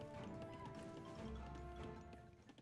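Cavalry hooves clatter in an Age of Empires game, a dense blend of many galloping clip-clops with faint horse noises, held at a low, even level.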